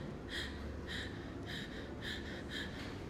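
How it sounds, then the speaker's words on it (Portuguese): A speech therapist demonstrates shallow, rapid breathing using accessory muscles: five quick, evenly spaced breathy gasps about half a second apart, close and fairly quiet, with no talking. "Fica uma respiração mais superficial"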